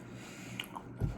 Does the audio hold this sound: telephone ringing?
no